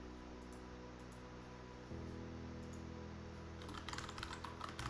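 Steady typing on a computer keyboard as a table name is entered, a quick run of soft close key clicks that grows denser toward the end over low background hum.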